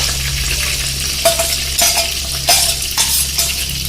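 Boiled mutton goes into a pan of frying onions and mint for harissa, giving a steady loud sizzle with a few sharp stirring scrapes and clinks of a utensil against the pan.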